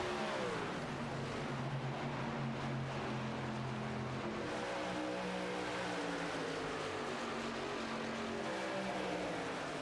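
Virtual pickup trucks racing side by side at Atlanta Motor Speedway in a racing video game, a dense continuous roar of several engines droning and shifting pitch as they pass, loud and unbroken.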